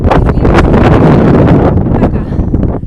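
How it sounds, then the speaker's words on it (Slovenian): Strong wind blasts against the microphone on a fog-bound mountain slope below Triglav, a loud, ragged roar of buffeting gusts with no pause throughout. "piha pa zelo močno"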